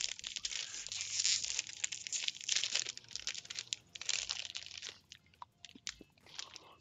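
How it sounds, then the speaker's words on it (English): Someone eating Combos snacks, with steady, close crunching and chewing that runs through the whole stretch in dense bursts at a quiet level, no talk. "Hope you don't mind the crunching noise."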